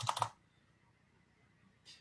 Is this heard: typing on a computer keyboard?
yes